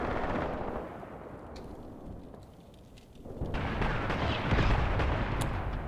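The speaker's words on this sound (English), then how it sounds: "But in the end, these are just mortars." Mortar fire in the war game Graviteam Tactics Mius Front, heard as a continuous rumbling barrage of distant blasts and crackling gunfire that swells louder after a brief lull.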